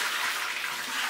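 Water gushes steadily out of an overfilled bucket being tipped to pour some off, a close, continuous splashing rush with no breaks.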